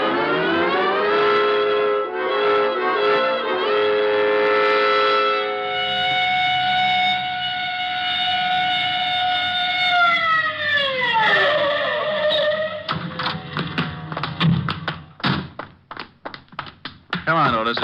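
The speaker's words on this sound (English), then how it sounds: "All right, Otis, you can use the siren." A police car siren sound effect for a 1949 radio drama holds a loud, steady wail for several seconds. It then winds down in pitch and gives way to clattering taps and thumps.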